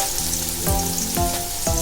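Salt-rubbed sliced onions fry in hot oil, giving a steady dense sizzle with a few soft stirring knocks, heard alone and fairly close.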